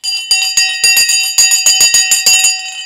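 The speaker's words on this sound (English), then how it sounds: "Sensei's bell is being rung right now" A small bell rings repeatedly, close and bright, in a quick irregular series of about a dozen sharp metallic strikes that ring on between hits.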